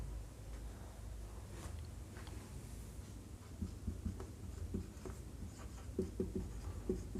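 A pen or chalk scratches across a board during a biology lesson, with faint intermittent strokes and taps under a low room hum that grow slightly more distinct toward the end.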